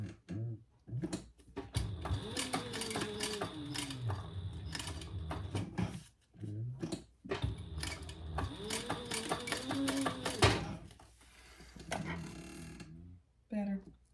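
A domestic sewing machine with a slightly gummy needle runs in bursts of rapid, steady stitching, stopping and restarting as it goes back over a skipped stitch, with brief pauses between runs and a voice speaking at times.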